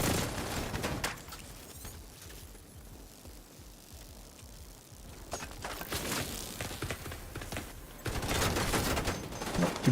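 Automatic gunfire rattles in The Division video game during a PvE farming session: a rapid burst opens, then quieter stretches, followed by renewed volleys that grow loud and dense toward the end.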